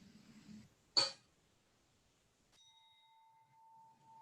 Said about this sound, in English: At the sound of the chime, our service begins.